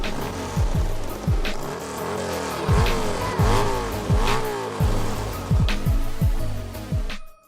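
Harley-Davidson motorcycle engines revving hard at a snow hill climb, loud and close with repeated rising and falling throttle blips and a steady roar that cuts off abruptly at the end.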